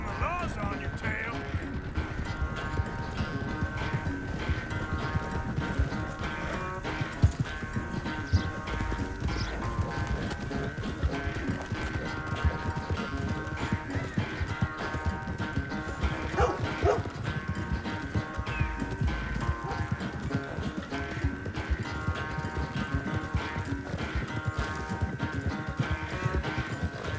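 Horse hooves galloping in the video game Red Dead Redemption 2, a steady rapid clip-clop rhythm running throughout under music and occasional voices.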